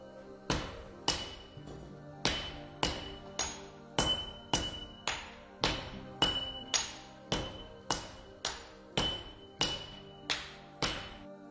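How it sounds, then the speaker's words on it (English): Heavy forge hammers pound hot steel into a flat block for a Japanese sword, about sixteen loud ringing metallic blows in a steady rhythm, each decaying quickly, with no speech. "Heavy forge hammers reduce it to a flat block."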